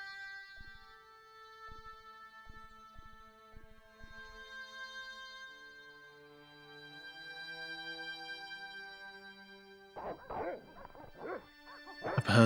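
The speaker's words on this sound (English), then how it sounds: "I've heard the dogs." Dogs in the Broken Sword: Shadow of the Templars video game break into a quick cluster of loud barks near the end, after a long stretch of quiet, sustained game music with soft plucked notes.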